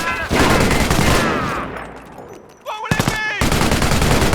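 Rapid bursts of gunfire crackle in the Company of Heroes video game during a World War II tutorial battle, with sharp volleys near the end and a voice talking over the combat.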